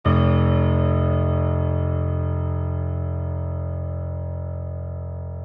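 A single deep, low F1 note struck once and left to ring, rich in overtones, slowly decaying over several seconds.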